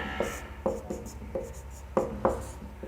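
Chalk or pen strokes scraping on a classroom board, a series of short sharp scratches at an irregular rhythm, close and moderately loud with no talk.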